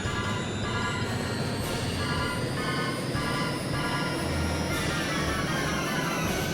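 A steady, loud jet engine roar from a Harrier jump jet in the PlayStation game Eagle One: Harrier Attack, flying over Maui Island; a continuous droning whine holds evenly throughout with no talk.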